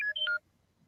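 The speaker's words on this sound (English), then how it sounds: "Sorry, that was my phone." A mobile phone sounds a quick pair of electronic beeps, clear and close, stepping between tones for under half a second before the room falls quiet.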